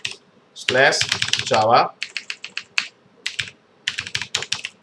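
Rapid clicks of a computer keyboard in bursts of typing, close and crisp, with a person speaking briefly between keystrokes.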